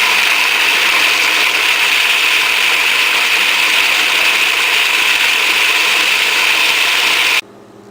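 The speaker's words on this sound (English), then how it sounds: "you put your lid on your Cuisinart or your food processor, whichever it is. Mine's both. And I'm going to run this for just a second" A Cuisinart food processor chopping pecans, a loud steady whirring grind with rattling nuts that runs continuously for about seven seconds before cutting off abruptly.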